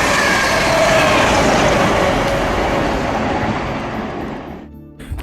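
Class 47 diesel locomotive 47712 hauling a rake of original push-pull coaches on the main line, a loud, steady roar of engine and rolling wheels close by that slowly fades toward the end.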